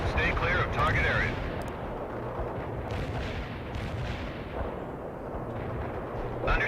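Artillery guns boom in the war game World in Conflict, dense rolling blasts under a constant battle roar, with a few sharper high crackles early on and no clear speech over it.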